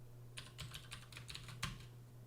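Quick, light keystrokes on a computer keyboard while entering a command in a Julia session, a brief burst of close, soft clicks over a steady low hum.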